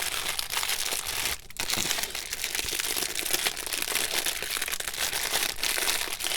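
A plastic bag holding wooden craft tags crinkles and rustles continuously as it is handled and opened, close and fairly loud, with one short pause early on before the crackling resumes.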